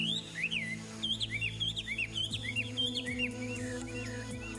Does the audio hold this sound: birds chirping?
yes